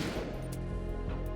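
A gunshot in Metal Gear Solid 2: Substance smashes a security camera, a dense crashing burst of game sound effects with sharp impacts over a loud, continuous wash.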